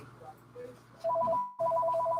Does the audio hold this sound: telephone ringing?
yes